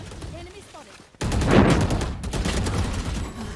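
Counter-Strike gunfire from a G2 vs Astralis match erupts after a quiet opening: dense bursts of rapid shots and loud reports continue to the end.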